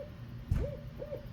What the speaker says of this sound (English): You hear that owl?